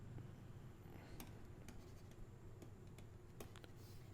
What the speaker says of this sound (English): Let me quickly erase this.